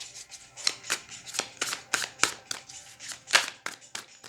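Tarot cards shuffled by hand in a steady run of crisp riffling bursts, about a dozen quick papery snaps close up, with no talking.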